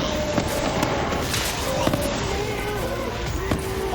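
Grenades going off in the video game Psycho Krieg and the Fantastic Fustercluck, sharp cracking blasts popping at irregular intervals amid a dense, noisy game soundscape.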